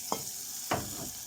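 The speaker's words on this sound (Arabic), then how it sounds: "نضيف الصلصه بتاعتنا اللي احنا محضرينها، نقلب" Tomato sauce goes into a hot frying pan of stuffing mixture for vine leaves, followed by a couple of sharp scraping stirs, two distinct strokes over a soft steady sizzle, close by with no talk.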